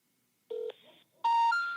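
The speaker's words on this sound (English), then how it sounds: "I'm gonna dial my old phone" Telephone keypad dialing tones from an old phone, a short pair of DTMF beeps: one brief tone, a pause, then a longer, louder tone, clear and close with no talking.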